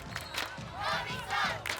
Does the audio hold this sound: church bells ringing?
no